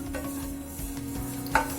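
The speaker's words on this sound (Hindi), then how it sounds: "गैस को मीडियम पे रख के इसको हम ऐसे खाली कढ़ाई में थोड़ा सा ऐसे भून लेंगे।" White sesame seeds are stirred and dry-roasted in an empty kadai over medium heat, giving a steady close scraping rustle with one brief louder scrape near the end.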